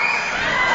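Wrestling crowd at a live event roaring and cheering after a flying body press off the top rope, a dense, loud, continuous wall of shouts and whoops.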